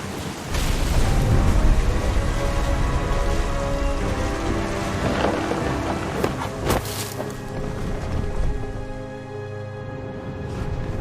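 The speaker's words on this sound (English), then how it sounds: "The thunder sounded much too close and full of angry power" Thunderstorm in the video game What Remains of Edith Finch: steady, loud rain noise with a swelling rumble of thunder and bright cracks near seven seconds, while a faint tonal background hums beneath.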